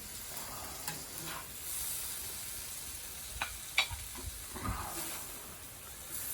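Venison stir fry sizzling and frying on a sheet of metal over charcoal, a steady soft hiss with scattered crackles and stirring scrapes, fairly quiet and close, no talk.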